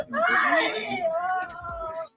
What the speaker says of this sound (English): Who is doing all that yelling and hollering back there?